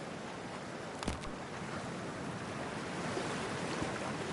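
Cold water waves washing in a Cyberpunk 2077 scene: a steady rushing surf with one brief splash, continuous and fairly loud, with no talk.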